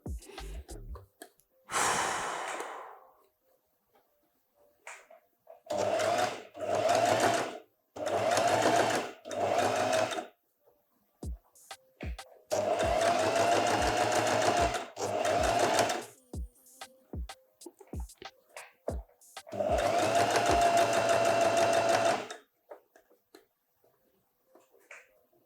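A sewing machine stitching fabric in bursts of rapid mechanical whirring, several runs of a few seconds each separated by pauses with small clicks and breaths, close and loud.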